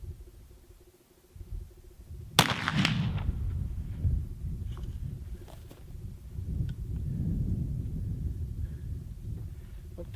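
A single sharp report from a muzzleloader firing a .530 round ball with a 100-grain 3F black powder hunting load, shot from a rest on a fence outdoors, followed by a brief decaying rumble and steady low background noise.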